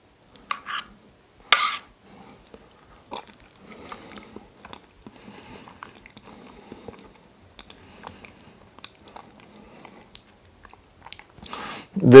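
Leche flan, a heavy, smooth Filipino custard, chewed during a taste test: soft, faint mouth sounds and quiet bites close to the mic, with a few sharper clicks and no talk.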